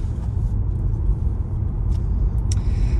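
A fast car driving on the road near Summertown, heard from inside as a loud, steady low engine and road rumble that holds without a break for a few seconds.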